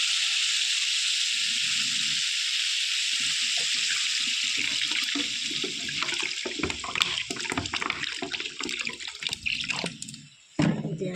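Water running into a pan of fish curry, a steady hiss at first that turns into splashing and bubbling with clatters of the pan, ending with a short pause and a final splash.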